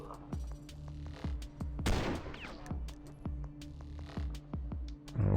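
Repeated gunfire in the sci-fi tactics game Stellar Tactics, a steady series of sharp shots at a regular rhythm over a low background hum, with a louder burst near the middle and no talking.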